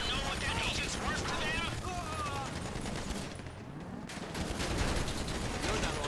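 GTA Online heist gunfire in a video game: dense, continuous bursts of automatic weapon shots mixed with game action noise, loud and unrelenting, with players talking over it.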